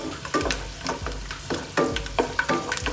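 Garlic frying in hot oil for a pumpkin dish, a continuous crackling sizzle broken by repeated scraping strokes of a stirring spoon, close and fairly loud with no voices.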